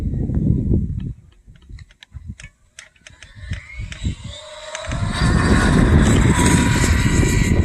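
A Team Corally Python RC buggy running on a 4S battery clicks and stutters in short bursts, then its motor rises into a loud, sustained whirring whine.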